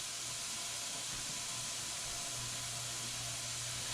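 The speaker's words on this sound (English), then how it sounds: "so I'm going to add the extra butter" Butter sizzles in a hot cooking pan, a faint, steady hiss with a soft low hum beneath, unbroken and without any talking.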